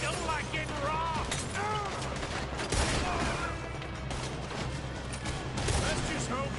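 Sustained gunfire from a Red Dead Redemption 2 shootout, dense overlapping shots and bursts filling the whole stretch at steady loudness, with voices calling out underneath and a couple of heavier blasts standing out.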